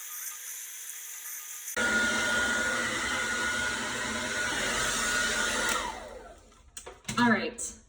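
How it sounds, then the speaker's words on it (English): Hair dryer blowing damp wavy hair, starting abruptly as a loud steady whooshing roar that runs for several seconds, then cuts off and gives way to brief handling noises and rustles. "I just blow dry to get the moisture out."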